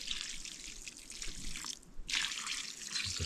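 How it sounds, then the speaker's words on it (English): Water from a collapsible bucket pours steadily onto a campfire, a close, gushing splash that breaks off briefly and then resumes. "This is the third lot of water I've put on here now. Soak this down."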